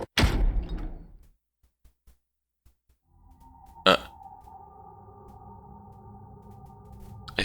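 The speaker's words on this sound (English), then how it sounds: "the last door finally opened" A sliding door in Virtue's Last Reward opens with a sharp mechanical thud, then a steady resonant hum that holds to the end. An earlier burst of noise fades into near silence before it.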